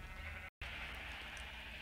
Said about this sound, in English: we have 240 sheep in a single cell standing in vines